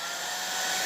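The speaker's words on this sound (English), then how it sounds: "get your blow dryer and then just hit where you want to first start" Blow dryer running full blast, a loud, close, steady airy roar with a constant motor hiss and no pauses.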